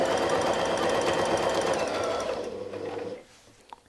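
A sewing machine quilting lines across a fabric circle runs in a fast, continuous buzz close by, then slows and stops after about three seconds, leaving a few faint clicks.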